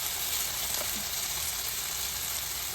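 Spiced chicken frying in a pan sends up a continuous, even sizzle, close and fairly loud, with no voices.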